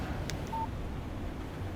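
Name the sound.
phone text message alert in Alan Wake video game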